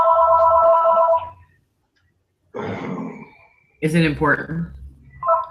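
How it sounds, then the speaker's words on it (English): A telephone rings in the background for about a second with a warbling, repeated electronic tone during an interview, then falls silent before people talk. "hopefully that phone stops"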